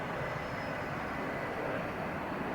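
A Russian jet starting to taxi gives off a steady, loud, broad engine roar with a faint high whine above it, holding constant throughout.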